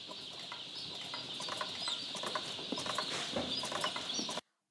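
Kienyeji local breed chickens cluck and chatter steadily at a poultry farm, a dense flock sound with overlapping calls held at an even level throughout before stopping abruptly.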